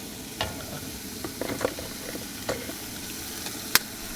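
Eggs are cracked into a hot outdoor pan of chicken fried rice, giving a steady close sizzle broken by a few sharp taps and cracks and a brief bright click near the end.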